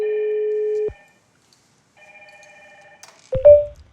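An IP phone on a PBX extension rings with a steady electronic tone, stops, then rings again more faintly, followed by a brief handset clatter as the call is answered.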